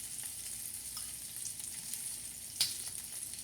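Shrimp cooking for fra diavolo in a hot pan, a quiet continuous sizzle and hiss with a single sharper pop partway through, no voices.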